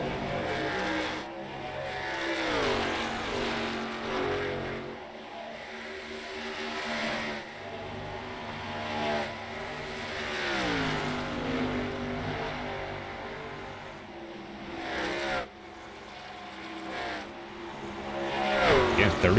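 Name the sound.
racing trucks driving on a track, sim racing video game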